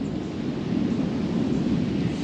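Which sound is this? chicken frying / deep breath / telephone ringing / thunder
thunder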